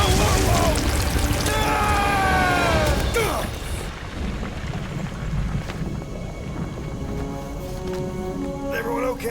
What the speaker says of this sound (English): the storm actually getting worse